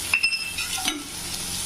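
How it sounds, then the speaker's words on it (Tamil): Onion and ginger garlic paste sautéing in a hot pan for vada kari, a steady close sizzle with a few bright clinks of a spoon stirring against the metal near the start. "நல்லா பச்சை வாசனை போகிற வரைக்கும் வதக்கிக்கலாம்"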